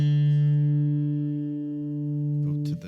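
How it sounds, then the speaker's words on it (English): A single plucked guitar note, the A string fretted at the 5th fret to sound D, ringing clear and sustained for over two seconds before a brief muted scrape as it is stopped. "go up to the A string, 5th fret, and that's what your D is going to sound like."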